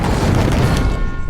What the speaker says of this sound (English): that cannon volley just fucking annihilated that Mammoth